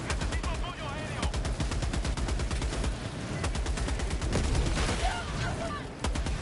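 Rapid bursts of automatic gunfire in the shooter game Helldivers 2 crack loud and close in dense, repeated volleys during a firefight.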